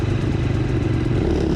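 Several enduro motorcycle engines idling and revving together at the start line of a race, a loud, continuous, rumbling drone close by with no let-up.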